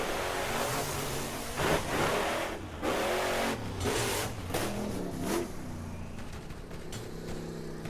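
Vehicle engine roaring in the video game Borderlands near the town of Fyrestone, a steady loud drone with swelling revs and occasional tire squeal, continuous and close throughout.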